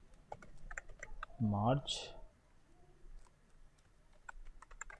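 A file name is typed on a computer keyboard, a quick run of light clicking keystrokes around a brief spoken word.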